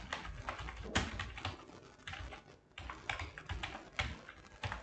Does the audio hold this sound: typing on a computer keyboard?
yes